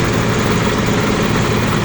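A rice-field water pump engine runs at a well-drilling site in Brebes, giving a loud, close, steady low drone with no pauses.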